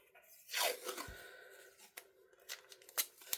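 Washi tape handled and peeled from its roll, giving a ripping tear followed by a few scattered crinkly clicks and small taps, close and fairly quiet.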